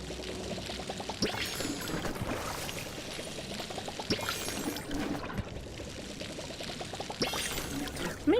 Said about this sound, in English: Let me water all of my plants.